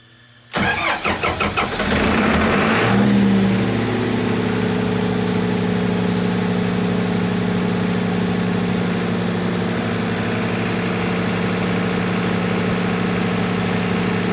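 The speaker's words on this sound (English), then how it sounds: "And we are now running on generator power." A high school's backup generator cranks with a brief rattling burst, catches, and settles into a loud, steady idling hum during a power outage test, with no talking over it.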